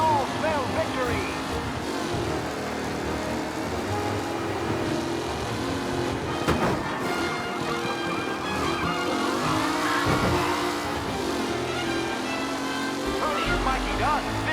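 Race cars speed around a track in a race in Mafia: Definitive Edition, engines roaring continuously and whining as they pass, with a commentator's voice over the steady din.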